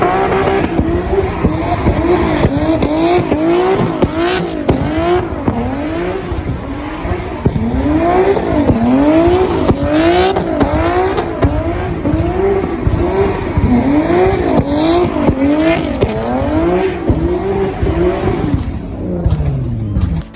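2015 Nissan 370Z Nismo with an upgraded 3.7-liter V6 racing in Need for Speed, engine note climbing and dropping repeatedly through gear changes, loud and steady with faint tire squeal throughout.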